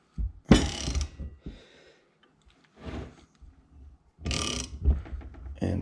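A ratchet working a ball joint off a side-by-side during a trailside repair, heard as several separate bursts of clicking and metallic movement spread across a few seconds, close, with quiet pauses between.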